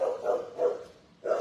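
A large dog in an animal shelter kennel barking, with three deep barks in a quick uneven rhythm, fairly close and loud.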